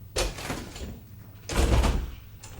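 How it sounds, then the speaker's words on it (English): A door being shut indoors, heard as two dull thuds about a second apart with some rattle, fairly close and loud, without any talking. "Okay, I'll make sure his door's shut, so."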